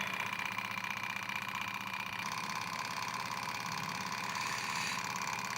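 A small Stirling engine runs fast, a steady whirring, ticking mechanical hum that holds constant and close without pause.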